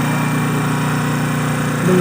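A DC motor running under load at a fixed 100 volts in an electrical machines lab, giving a steady, loud hum with a faint tonal shift near the end and no talk.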